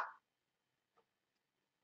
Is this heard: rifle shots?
no